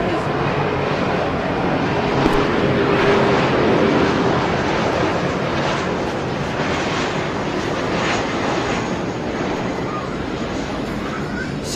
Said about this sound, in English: sorry for the interruption as the plane goes by